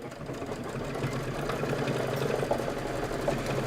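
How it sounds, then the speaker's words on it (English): An embroidery machine runs a satin stitch around a snowman body, a steady rapid mechanical whir and tapping of the needle, close and even, with no speech. "just hit start, and it's going to do the satin stitch around the snowman body"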